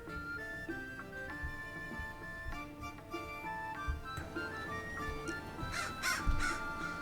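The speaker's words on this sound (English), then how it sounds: "as a crow flies overhead, behold our marvelous daycare" A crow caws repeatedly in the Dwarf Fortress video game, heard alongside ticking and other soft ambient game sounds, moderately quiet and steady throughout, with no one talking.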